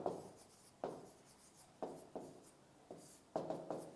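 Chalk strokes on a classroom blackboard in a Hindi-language lesson, coming in short scratchy bursts with brief pauses between them, close and fairly quiet, with no voices.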